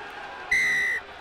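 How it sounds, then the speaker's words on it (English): A referee's whistle rings out during a Kenya versus Uganda rugby match, one steady half-second blast over a low crowd murmur in the stadium. "And there is the halftime whistle."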